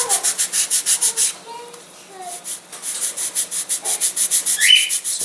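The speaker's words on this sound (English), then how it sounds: "So basically I'm just trying to sand this ridiculously thin" Rhythmic back-and-forth sanding of a very thin part of a Protege Lite AMA catapult glider, a steady scratchy rasp that pauses briefly and then resumes close by, with no talk.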